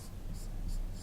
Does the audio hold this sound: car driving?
no